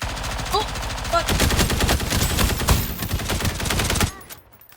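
Rapid automatic gunfire in the shooter game Fate Trigger, a dense sustained burst of loud close shots lasting several seconds before cutting off, with a few brief electronic blips at the start.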